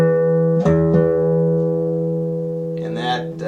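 Guitar strings plucked while tuning by ear, with sustained E notes compared against each other: a ringing note, a second pluck near the one-second mark, and a fresh attack near the end, fairly close and clear.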